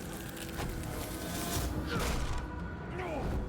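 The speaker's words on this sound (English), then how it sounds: "we got the Bloodborne sound effect" Bloodborne game sound effects ring out through a dense mix, with thuds, creaks and swooping tonal sweeps that rise and fall near the end, steady and fairly loud throughout.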